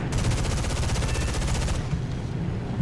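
Rapid machine-gun fire in the War Thunder video game, a dense, loud burst of shots for about two seconds that then cuts to a quieter tail.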